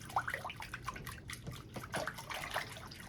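Water splashes and trickles softly as shampoo is worked out of a wig under running water into a bucket. Close, irregular dribbles and drips continue for a few seconds with no speech.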